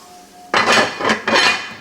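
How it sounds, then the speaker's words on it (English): A metal lid set onto a pot on the cooker after it comes off the heat, giving three quick clattering clinks close by, with no talking. "I'm going to get my lid on"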